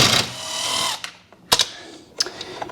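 A 10 mm bolt comes off a BMW X1 airbox, heard as a brief burst of mechanical whirring from a tool followed by a few sharp clicks and clunks, close and fairly loud.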